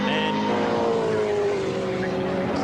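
Onboard a 1998 V8 Supercar racing at Phillip Island, the engine note drones loud and close, its pitch sliding steadily downward as the car lifts, with no talking over it.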